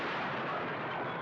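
A single loud, close gunshot from a western film scene, a dense crack and roar that fills the whole moment with no talking.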